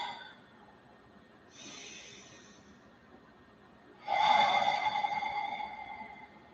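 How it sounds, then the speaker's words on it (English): Slow, audible breathing during a relaxation meditation: a soft breath, a gentle mid-length exhale, then a louder, fuller breath toward the end, close and alone. "Gentle inhales and exhales, nothing complex."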